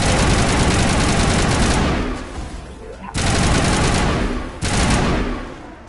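Weapons fire in the video game Mass Effect rattles out in loud, dense automatic bursts, briefly tailing off twice before resuming.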